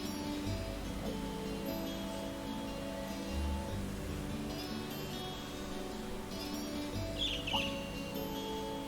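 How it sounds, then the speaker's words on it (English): A bird chirps in the video game Trails of Cold Steel, with brief high calls over a steady, quiet ambient background of game music and soft rustling. "A bird."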